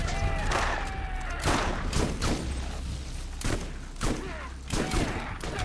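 Gunfire in Borderlands 1, a handful of sharp shots at irregular intervals over steady game noise and music, fairly loud and close.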